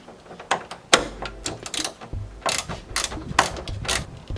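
A small hand ratchet backing out grill screws on a Mercedes W220 S-Class, rapid close-up clicking bursts of the pawl mixed with sharp metallic taps and handling knocks, in an irregular stop-start rhythm.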